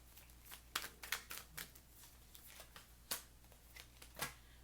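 Tarot cards being shuffled by hand, a series of soft, crisp riffles and snaps in an irregular rhythm, close but quiet, with no talking.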